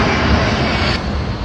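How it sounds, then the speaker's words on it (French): Private jet engines roaring at Ibiza airport, a steady loud broadband rumble that holds throughout, easing slightly toward the end as an aircraft passes. "c'est le défilé des jets privés à Ibiza"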